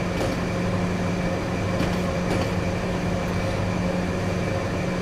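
An Amtrak locomotive in Train Simulator runs at speed with a continuous low rumble and steady hum, even and unbroken throughout, with no talking.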